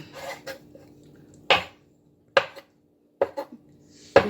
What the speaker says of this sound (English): Cut it into little squares. Be sure they're smaller squares.